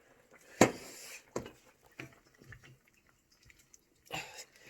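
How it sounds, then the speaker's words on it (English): Egg yolks are poured quickly into a sauce and mixed hard, in a 15th-century Portuguese recipe. A brief wet splash comes first, then scattered soft stirring taps and scrapes, with another liquid burst near the end. "when you pour it in is to pour it in quickly and then mix it really hard"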